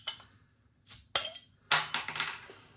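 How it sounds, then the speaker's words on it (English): A Three Tuns rich brown ale in a 500 ml capped bottle is opened and poured into a regular pint glass: a soft hiss, then a couple of sharp glassy clinks and a gurgling pour, close and fairly quiet. "Let's get it out then into a glass and see what we get."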